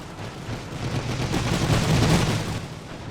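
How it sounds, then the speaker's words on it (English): Machine gun fire in a World War I video game rattles as a dense, continuous burst of rapid shots, swelling louder midway and staying heavy throughout, with no voices over it. "I imagine we've got the machine gun fire coming this way right now"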